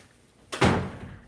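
A door swings shut with a single loud, close thud, a brief sliding rush right before the impact, then a short fading resonance.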